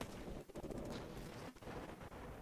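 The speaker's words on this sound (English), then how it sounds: "the explosion function should just run once when the rocket hits the terrain" A rocket projectile explodes on impact with terrain in the Crayta video game, giving a dense, rumbling burst of blast noise that fills the clip with brief dips, loud and without any voice.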